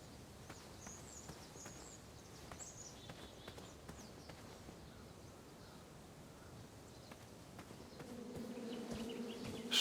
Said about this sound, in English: Shame about that buzzing beehive, though.